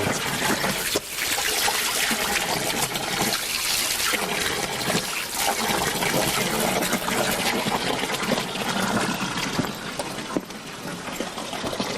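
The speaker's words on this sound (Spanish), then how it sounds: "me dijeron que había una fuente. Voy a beber agua." Water pours steadily from a mountain spring fountain, a continuous loud splashing trickle heard up close for the whole stretch with no pauses.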